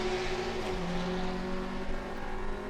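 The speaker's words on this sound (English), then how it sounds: "Engine in the background is the 2-litre power plant of the Autorama Motorsport VW Golf GTI" The 2-litre engine of the Autorama Motorsport VW Golf GTI race car drones steadily at the Hankook 12H Hungary endurance race, a loud continuous roar whose pitch dips slightly partway through, with no voices.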